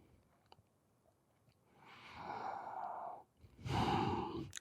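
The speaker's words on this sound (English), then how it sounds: "just simply stretching down and breathe 5 times" Two slow, close breaths during a forward-bending yoga stretch, each a soft airy exhale separated by a short pause, with no talking.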